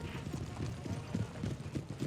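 Cavalry horses, British hussars in a Napoleonic battle game, thudding hooves in a steady clip-clop rhythm with repeated low beats, fairly close, with faint battlefield noise beneath.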